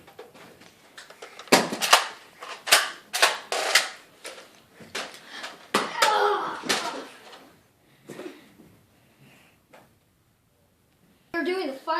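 Toy Nerf guns fire during a family Nerf gun war, giving sharp snapping pops and clacks scattered through the scene. Excited voices talk and shout over and between the shots.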